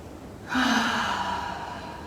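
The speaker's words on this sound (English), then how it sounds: "Take another deep breath." A deep yoga breath, one slow audible inhale starting abruptly and drawing out steadily, close and clear with nothing else over it.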